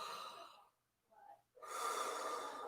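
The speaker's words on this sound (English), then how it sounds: "Breathing in" A deep, audible inhale taken during a gentle morning warm-up breathing exercise, a long airy draw of breath broken by a short pause, then a fuller, louder breath up close.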